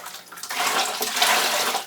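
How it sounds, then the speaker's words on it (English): Caulking sponge swished and rinsed in a bucket of warm water, a steady splashing, sloshing wash close up that swells after a brief quieter start and continues without a break. "After every window, I'm just going to clean my caulking sponge"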